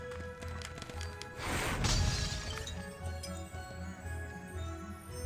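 Objects smashing in Harry Potter and the Chamber of Secrets on PS2, heard as one loud shattering crash with breaking glass and clinks near the middle, over a low, steady game soundscape.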